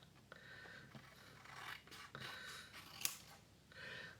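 Scissors snip and rasp through paper tags in a handmade dressmaker-themed journal, a run of close, dry cuts and rubbing strokes with one sharp snip near the end.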